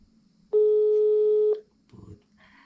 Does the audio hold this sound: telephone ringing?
yes